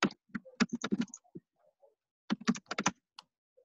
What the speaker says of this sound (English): I don't know if you can see my funky typing